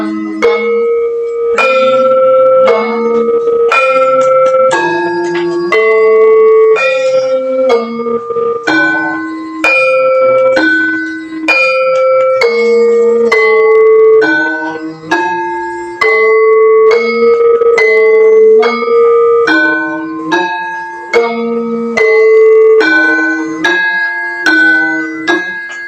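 Bronze gamelan instruments ring out in a steady, even melody of struck metallic tones, each note sustaining and overlapping the next, with no voices over the playing.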